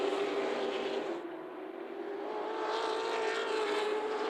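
Race cars circle Myrtle Beach Speedway at a steady pace to conserve their tires, a continuous loud engine roar that dips slightly as the pack moves off and then swells back up again.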